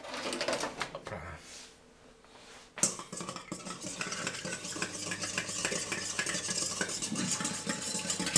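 A small whisk stirs a mixture in a bowl with a quick, steady rattling and scraping, close and continuous after a short pause, while people talk over it at times.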